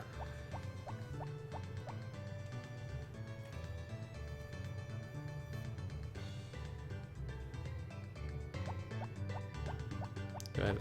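Water pours and drips in soft bursts while crops are tended in the farming game Harvest Moon: Back to Nature, sitting under steady background music with bright chiming notes.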